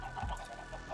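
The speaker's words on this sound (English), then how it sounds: "Also got this chicken farm." Chickens on a video game chicken farm give a brief, low cluck near the start, faint and close, over a steady hum of game ambience.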